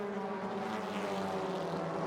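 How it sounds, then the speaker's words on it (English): Pack of 2-litre TCR touring race cars, Hyundais at the front, at Lime Rock Park, engines droning together in a sustained, fairly distant roar. "And the screaming 2-litre engines are now"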